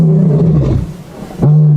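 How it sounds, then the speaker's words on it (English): Big cats roaring loudly and close beside a vehicle, deep sustained roars rising, breaking off briefly and resuming at full strength. "Just listen to them roaring now, everybody"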